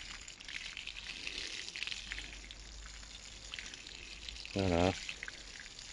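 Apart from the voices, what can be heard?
watering the garden with a watering can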